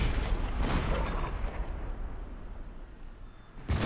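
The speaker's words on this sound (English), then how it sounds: "the howitzers, of course, are able to fire shells which explode and cause a lot of damage" Howitzer artillery fires explosive shells in a Civil War strategy game, heavy booming blasts with rolling rumble that decays, then another sharp report at the end, loud and without talk.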